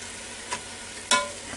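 Ground beef sautéing in a Ninja Foodi, a steady sizzle throughout with two brief louder scrapes of stirring, no talk.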